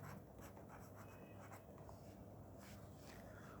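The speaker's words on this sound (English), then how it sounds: "let me write down the question" Pen or pencil writing on paper while a geometry problem about a rectangular hyperbola is set out, a steady close scratching and tapping of strokes over a low background hum, with no talking.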